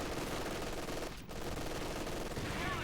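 A WWII-era MG42 machine gun fires in a video game as a continuous dense rattling burst, loud and close, breaking off briefly midway before resuming.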